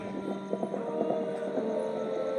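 Horse hooves clip-clop in a quick, even rhythm as a sound effect in a light and sound show at Jhansi fort, set over a steady background hum.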